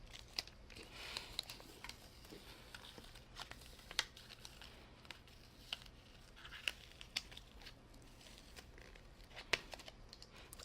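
Cut vinyl decal being weeded, excess vinyl peeled away from its backing with soft crinkling, tearing and light crackle, small sharp ticks scattered through a faint, steady low hum with no voices.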